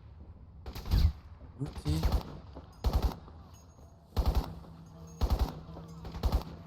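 Gunfire in the video game Crysis comes as short automatic bursts, about seven of them spaced a second or so apart, loud and punchy, while someone talks now and then between them.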